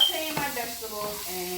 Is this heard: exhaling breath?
no